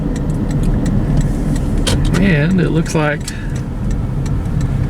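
A car cruises along Highway 20 in Interlaken, its steady engine and road rumble filling the cabin as a person talks over it close to the mic.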